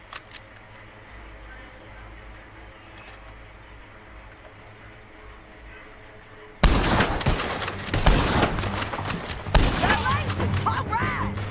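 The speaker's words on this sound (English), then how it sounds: "Let's just start shooting" Gunfire erupts abruptly in the Red Dead Redemption 2 video game after a stretch of quiet ambience, dense overlapping shots crackling loudly and continuously through the second half, with voices talking underneath.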